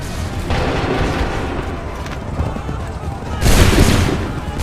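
Soldiers fire a musket volley in Assassin's Creed 3: two booming bursts of massed gunfire, the second louder and closer, over a dense rumbling battlefield.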